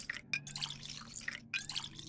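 Water running and dripping from a tap in the video game Pathologic 2, a close liquid trickle with bright splashy drips and short gaps, without talk.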